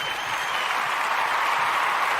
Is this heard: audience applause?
yes